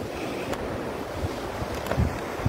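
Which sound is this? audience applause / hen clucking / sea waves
sea waves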